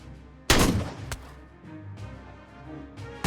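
A single sharp sniper rifle shot in the VR game Out of Ammo, loud and close with a brief echoing tail, followed by quieter clicks and another shot beginning at the end.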